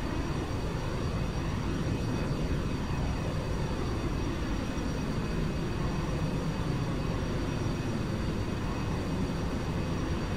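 A steady, dense roar of an airplane engine in flight in X-Plane 11, loud and unbroken throughout with a faint high whine riding on top and no talking.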